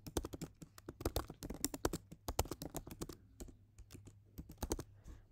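Typing on a computer keyboard, a quick run of close, crisp key clicks in uneven bursts with a brief pause in the middle, faint overall with no talking.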